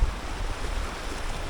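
Ocean waves surge and wash over a reef edge on a Jamaican shore, a steady rushing roar with wind buffeting the microphone.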